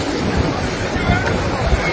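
A rainstorm with strong wind batters the Holy Land at Mecca, a loud, steady roar of gusting wind and rushing rain buffeting the microphone, with voices mixed into the din.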